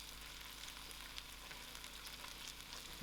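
Lamb sizzles and fries in a pan seasoned with Chinese 5-spice, a faint, steady crackle with soft scattered pops and no talking.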